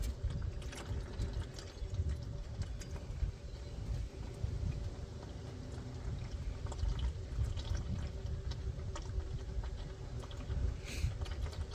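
Engine oil draining from a Land Rover Defender 90 during an oil change, a steady close trickling, splashing pour running continuously under low workshop rumble.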